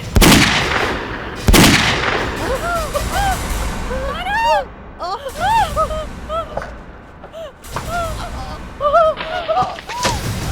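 Two sharp, loud gunshots ring out in a tense TV crime-drama scene at sea, the first near the start and a second about a second and a half later, followed by agitated shouting and wailing voices.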